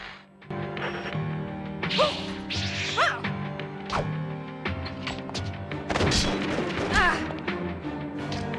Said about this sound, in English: That glass seems thin. Breaking it should enable you to get outside.